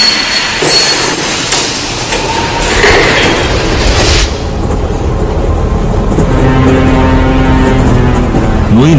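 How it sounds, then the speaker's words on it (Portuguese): A train pulls out of Frankfurt station with loud rumbling and clanking that fade into a steady rolling rush and whine. "Senhoras e senhores, este trem tem como destino Auschwitz."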